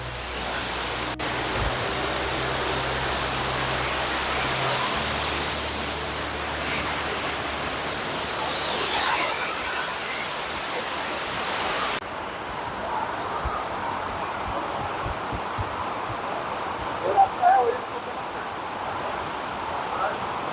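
Lungurdung waterfall near Bijanbari thunders as a steady, loud broadband roar of falling water close by, continuous for the whole stretch, turning slightly quieter and more distant partway through.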